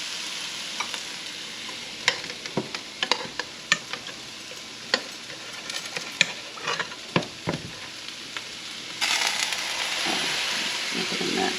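Oxtail stew for Cuban-style rabo encendido stirred and mixed in a pot, with close scraping and clacking of a spoon against the pot over a low sizzle, then a louder steady hiss of liquid near the end.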